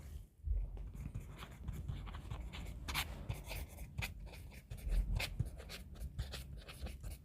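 A teacher writes notes on a board by hand, with scratchy strokes and taps coming in irregular bursts, near and fairly quiet, with no speech.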